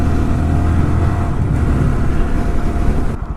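A 125cc geared motorbike with a clutch drones steadily while being ridden, a loud, continuous low engine rumble with rushing wind, cutting slightly at the end.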